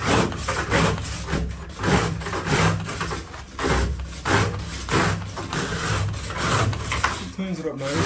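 A stainless steel bristle brush scrubbing the surface of a bass boat under restoration, rhythmic rasping back-and-forth strokes about once a second, close and fairly loud, with a voice talking over parts of it.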